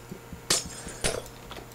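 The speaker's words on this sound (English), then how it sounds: "I'm gonna have to break all my sweet glass here" Glass blocks breaking in a video game, two sharp crunching shatters about half a second apart, each followed by a faint tinkling tail, with a few softer clicks and a low steady hum underneath.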